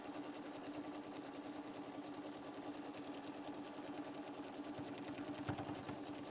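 Sewing machine stitching fabric for Easter placemats, a continuous fast mechanical whir with a steady hum, quiet and even throughout and free of speech.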